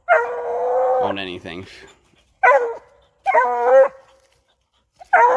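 A young hound's first solo treeing, barking in short repeated bursts close by, the eager yelps broken by pauses while a handler urges her on.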